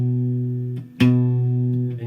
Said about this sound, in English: With your middle finger, put it on the 2nd string down on the 2nd fret.